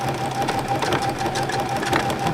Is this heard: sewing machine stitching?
yes